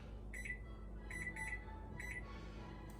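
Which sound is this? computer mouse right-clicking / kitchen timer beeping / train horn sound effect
kitchen timer beeping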